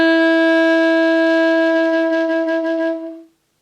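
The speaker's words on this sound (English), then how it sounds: "And on an alto sax it sounds like this." A single sustained C sharp on an alto saxophone, held steady for about three seconds and then released, played alone and close with a bright, reedy tone.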